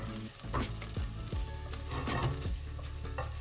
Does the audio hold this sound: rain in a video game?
no